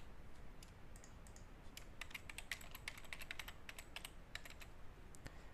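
Typing on a computer keyboard, irregular quick clicks and taps of keys, close and faint against quiet room hiss.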